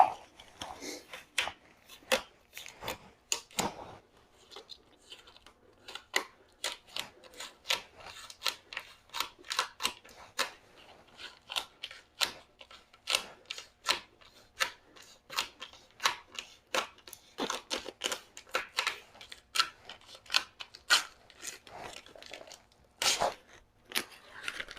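Frogtape peeled slowly along wood joints instead of ripped from the end, producing a long series of sharp crackling tears and snaps, close and fairly quiet, with brief pauses between pulls.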